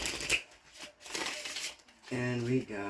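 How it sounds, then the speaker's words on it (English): A Darkwood Tarot card deck is riffled in quick papery bursts, a soft crackling flutter repeated a few times, while a person talks over part of it. "this deck here, Darkwood Tarot. And so I'm going to shuffle it one time"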